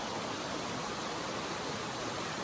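River water rushes steadily, a dense even hiss of flowing current with no breaks, moderately loud and close.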